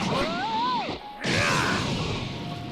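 Heavy impact as a character smashes into the ground in Dragon Ball Sparking Zero, a whooshing sweep leading into a brief gap, then a loud crashing burst with rumbling debris in a busy game mix.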